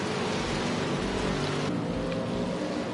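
Steady, dense wash of rain noise in a racing video game at Willow Springs, broadband hiss with low engine rumble beneath, continuous and unbroken for the whole stretch, no voices.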